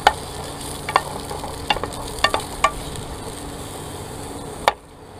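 Mushrooms fry in olive oil in a pan while cooking in an RV, a steady low sizzle broken by sharp clicks and scrapes of stirring, ending abruptly in near silence.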